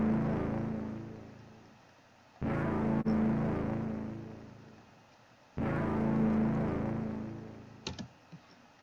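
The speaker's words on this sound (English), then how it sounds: "So I took a Reese bass here just on A, and so I pretty much just adjusted it a little bit so it kind of cuts off about halfway." A Reese bass synth held on the note A, shaped to cut off about halfway, pulses in two long, loud, even phrases with a short gap between them and a few clicks near the end, with no voices.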